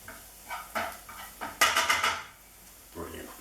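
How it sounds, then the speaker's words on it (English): Garlic and softened onion stirred in a pan, a utensil scraping and knocking against the metal in short uneven bursts, close, with faint background sizzle. "whack the garlic in. give it a stir around"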